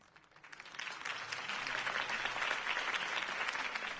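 Applause from a crowd in a Batman video game swells quickly and continues steadily, fairly faint and distant, with no voices over it.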